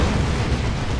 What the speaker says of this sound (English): There's the Baneblade. With a mega battle cannon on top.